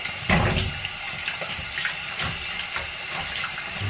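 Water runs from a kitchen tap while bread and groceries are washed under it, a steady close splashing stream with irregular spatters and knocks as items pass through the flow, without any talk.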